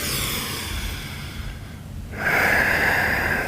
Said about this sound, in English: one more breath